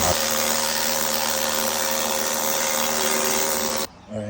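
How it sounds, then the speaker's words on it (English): Finger power tool sanding the undercarriage of a 1987 BMW M3, a loud, steady high-pitched whine with a buzzing motor hum, running continuously close by before cutting off abruptly near the end. "So I'm gonna switch to one of these finger tools."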